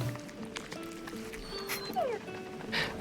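Dog yipping and whimpering in a video game, a few short high yelps and a rising whine among game effects, with faint talk underneath.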